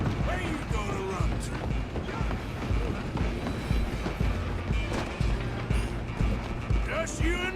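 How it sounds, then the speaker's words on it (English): A train runs in Red Dead Redemption 2: a steady rumbling roll with clattering rail clicks and mechanical knocks throughout. Game dialogue and effects sit over it, and the rumble stays loud and constant. "I'm gonna ride ahead and stop the train."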